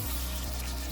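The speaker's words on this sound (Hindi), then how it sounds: "और इसमें हम 4 कप पानी ऐड कर देंगे" Water pours into a pot of homemade chicken corn soup, a brief, close, gurgling splash.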